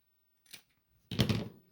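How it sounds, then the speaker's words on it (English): Two crisp snips of scissors cutting through extra lace, a short light snip followed by a longer, louder cut, close up in a quiet room with no talking. "We're going to cut off the extra lace"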